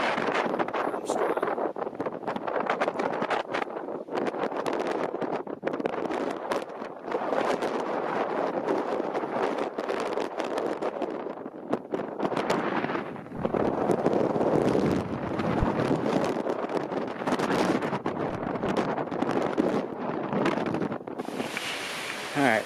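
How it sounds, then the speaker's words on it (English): Strong wind roars over an exposed summit of Armstrong Mountain in the Adirondack High Peaks, a loud, continuous buffeting with gusty surges that batter the microphone throughout. "The wind is whipping so hard."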